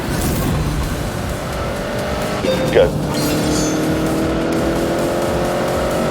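Tuned turbocharged car with new rods, pistons, turbocharger and electronic tweaks making 330 horsepower, racing in The Grand Tour Game: steady loud engine drone with tire noise and a brief squeal near the middle, under a short spoken word.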